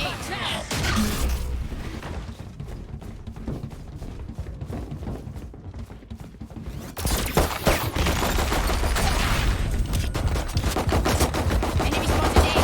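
Rapid automatic gunfire in a tactical shooter video game, dense continuous bursts of shots with mechanical clatter running throughout and growing louder and fuller in the second half, with a player's voice talking over it.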